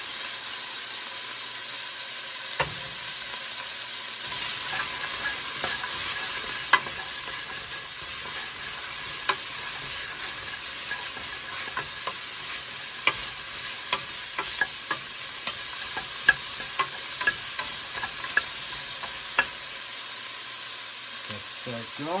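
Carrots and celery sizzle steadily in a pot for beef stew, a constant fine frying hiss with scattered crackles and spoon clicks, and no talking.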